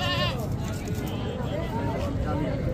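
Goats bleating at a bakra mandi livestock market in Dera Ghazi Khan, Pakistan, with several wavering bleats close by over crowd babble and talking.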